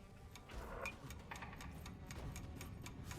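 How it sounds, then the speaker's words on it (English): A ticking timer warning in the video game Deep Rock Galactic: Rogue Core gives a steady run of faint, regular clicks over a low rumbling game background, with no talking. "is that the ticking sound to let you know you're about to reach critical mass with the timer?"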